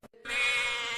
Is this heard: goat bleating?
yes